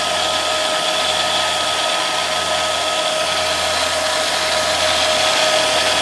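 A machine running steadily after a belt drive conversion, giving a constant, loud whirring drone with an even tone and no breaks, close by.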